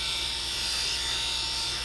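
A GROOMIE BaldiePro cordless electric head shaver runs close by with a steady, even buzzing whir that holds unchanged throughout.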